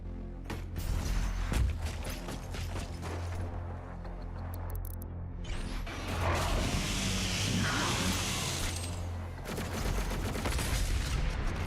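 Rapid gunfire volleys in the video game Doom, mixed with mechanical clanks and creaks. Bursts start and stop over several seconds at a loud, even level.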